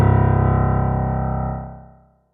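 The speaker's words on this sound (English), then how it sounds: "The lowest C note on a piano is called C1." A single deep C1 note, the lowest C on a piano, rings out in a music theory course. It sounds dense and slightly buzzy, sustains, then fades away after about two seconds.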